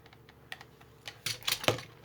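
A few crisp snips as a small piece is cut for a handmade Christmas windmill craft, close and fairly quiet, clustered toward the end.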